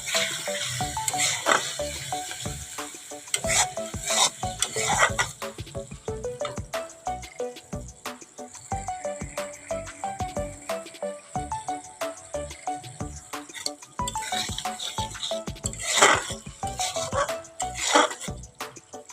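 Pointed gourd and potato chunks, salted, frying in a pan for a Bengali kosha curry. A steady sizzle runs throughout, broken by frequent sharp clinks and scrapes of stirring, with louder bursts near the start and end.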